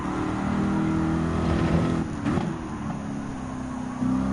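Two mid-engine Italian Group 4 race cars in Gran Turismo 7 drone loudly, their engine pitch wavering and dipping midway before rising again, with no voices over them.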